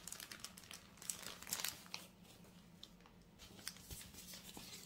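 Cross-stitch canvas with a fine grid, folded and creased by hand, gives off a steady run of soft, close crinkling and papery rustles with a few sharper crackles, quiet and free of talk.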